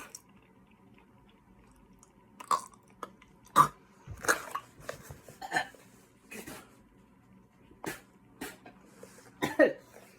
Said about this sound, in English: So I'm just gonna take small bites